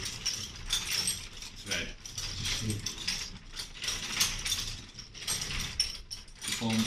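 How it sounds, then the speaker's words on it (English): A braiding machine at an industrial museum runs with steady rapid mechanical clatter and ratcheting, a person speaking over the whirring gears throughout. "This is a braiding machine."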